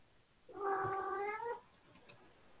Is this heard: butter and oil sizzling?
no